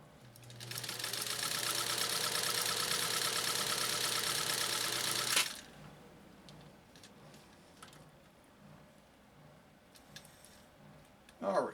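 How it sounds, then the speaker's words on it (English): A 1.0 amp Japanese clone sewing machine runs a steady stitch line through sheeny fabric for about five seconds, a loud, even whirring hum with rapid needle ticking, then stops, leaving quiet room tone and a brief clunk at the end. "now we're going to do that next stitch line. It'll be about 10 to 12 stitches per inch"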